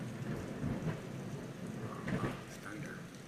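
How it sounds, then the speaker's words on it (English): Thunder rumbles low and heavy during a storm, a broad rolling roar mixed with steady rain noise and faint voices in the background. "Thunder. I saw the lightning."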